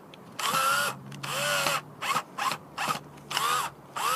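Electric drill running in repeated short bursts while making an insect catcher net, each whine rising and falling in pitch, close and loud with brief pauses between.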